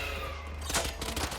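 Gunfire in the tactical shooter Valorant, a quick burst of several rapid shots against the wall amid steady game noise, moderately close and without speech.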